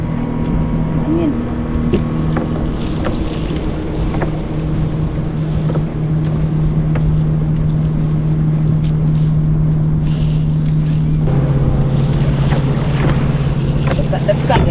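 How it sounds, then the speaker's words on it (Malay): Strong wind roars steadily across open sea aboard a fishing boat working bawal (pomfret) nets, with a low engine drone and splashing water underneath, while voices talk intermittently throughout. "Angin lagi. Angin"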